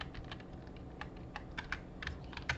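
Keys on a computer keyboard are pressed in quick irregular bursts of close, crisp clicks, with no talking.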